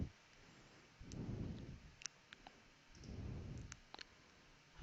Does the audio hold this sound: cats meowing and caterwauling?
no